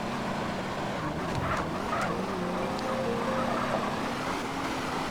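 Car engine in the GTA San Andreas multiplayer game (SA-MP) driving off, a steady droning motor whose pitch slowly rises and wavers over continuous noise, with no talk.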